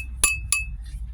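Glass pieces among sediment recovered from a hard drive cleanout clink together twice in quick succession, close, sharp and fairly quiet.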